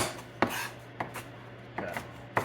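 A kitchen knife chopping ingredients on a board for a homemade organic pest control mix, four separated thuds with brief scraping between them, close and fairly quiet over a low hum.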